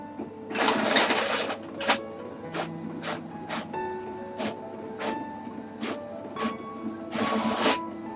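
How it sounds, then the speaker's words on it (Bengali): An inkjet printer running Microsoft Office Word 2003 output prints a page with rhythmic mechanical whirring, repeated clicks and print-head shuttling, fairly close and steady with no voices. "এখানে এটা প্রিন্ট হয়ে গেছে"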